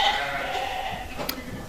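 Ewes bleating on a sheep farm with a flock of about 330 sheep: a short wavering bleat against a steady background murmur of the flock, moderately close.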